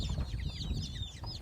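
Young chicks chirp in a busy cluster of high, rapid peeps close by, with soft rustling and shuffling underneath.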